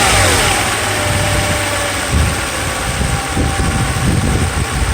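A Mercedes S600 engine with a repaired throttle and e-gas unit runs steadily, with a short rise in revs during a throttle test. It is loud and close, and nobody speaks.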